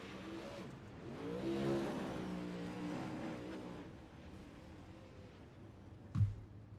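UMP modified dirt race car engine at a dirt track on championship night, a mid-pitched drone that swells and fades after the checkered flag, with a brief sharp thump near the end.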